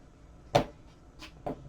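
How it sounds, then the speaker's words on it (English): Cutting along the outer edge of pen case material: three short, crisp snips with uneven gaps, close and quiet against a near-silent background. "Now, I'm going to cut just along the outer edge here,"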